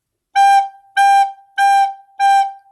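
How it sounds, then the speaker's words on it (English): A recorder plays a G note four times in a slow, steady rhythm, each tone clear, pure and close, separated by short silences. "I'm going to play the G note for you."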